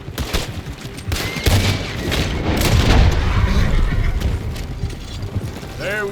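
Rapid gunfire and booms from a Western shootout in the video game Red Dead Redemption 2, a loud, dense burst of shots and impacts over background game sounds, fading toward the end.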